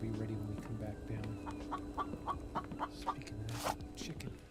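Chickens cluck in short repeated calls inside a survival video game, mixed with game sounds and a voice talking in the background.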